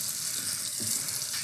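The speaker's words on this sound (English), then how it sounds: "You'll notice I'm using pretty hot water to rinse this cymbal." Hot tap water pours steadily over a cymbal being rinsed in a sink, a continuous bright hissing splash that stays at an even loudness throughout.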